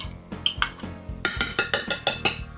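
Utensil clinking and scraping against a mixing bowl as mashed banana is stirred into banana bread batter, a run of sharp, close taps and scrapes in an irregular then steady rhythm, with no talking.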